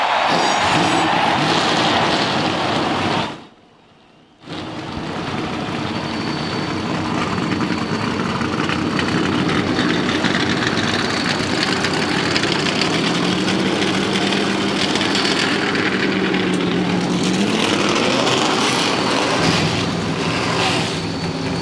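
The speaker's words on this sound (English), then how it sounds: "Gentlemen, start your engines!" Several NASCAR stock car engines fire up and settle into a loud, steady idle on the track before the 1999 Goody's Headache Powder 500, a broad rumble holding throughout after a brief dip near the start.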